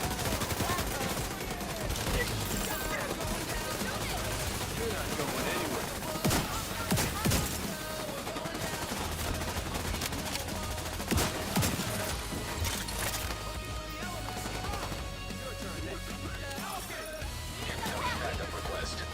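Automated turrets in The Division 2 keep firing in steady automatic bursts with sharp impacts scattered through a chaotic firefight, while a voice talks over the shooting.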